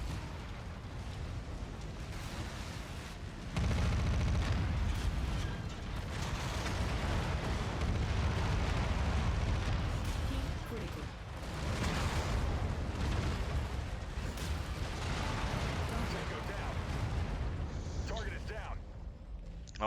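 Mech autocannons fire in MechWarrior combat, a loud, dense run of booming bursts and blasts layered with ongoing battle noise, with a voice talking over much of it.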